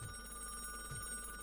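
A telephone rings inside the video game RoboCop: Rogue City, a quiet electronic ringing tone with steady high pitched warbling and a couple of soft low thumps, no speech.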